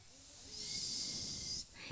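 Kindergarten children at a school show imitate a snake's hiss with their voices, a sustained breathy hiss of about one and a half seconds that swells, holds, then cuts off, followed by a brief low thump.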